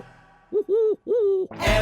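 Owl hoots in a children's dance song: three smooth, tonal, voice-like hoots in quick succession, clear and close, followed by a burst of louder music.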